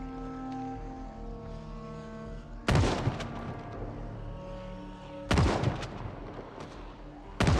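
Shotgun blasts in Project Zomboid aimed at zombies: three loud, close, booming shots spaced a few seconds apart, each with a short rumbling tail, over a steady low in-game hum.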